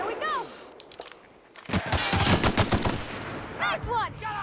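In The Outer Worlds, a weapon fires a rapid burst of loud, close gunshots that cut through bright chirping effects. Short sound effects come before the burst and after it.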